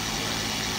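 A Menzerna dual action polishing machine runs with a steady, loud motor whir and dense buzzing hum, continuous with no pauses.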